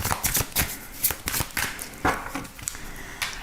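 Oracle cards shuffled by hand for a thirteen-card reading, a run of crisp riffling bursts and soft slaps in an irregular rhythm, close and fairly loud with no talk.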